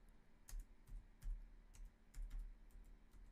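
Keys clatter on a computer keyboard in short bursts of typing, close and fairly quiet, with brief pauses between clusters of clicks and no talking.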